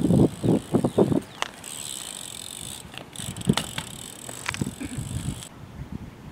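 A BMX bike rolls outdoors as the rider practises nose manuals, giving rhythmic tyre and frame thumps at first, then freewheel ticking and scattered clunks over steady background hiss and insect-like chirping.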